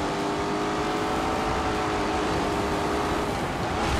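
A Lamborghini Urus races flat out in The Grand Tour Game, its engine droning loud and steady throughout with a constant rushing roar and slight rises in pitch, close and without talk.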